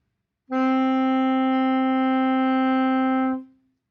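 An alto saxophone holds a single steady A note for about three seconds, clear and reedy, then fades out cleanly.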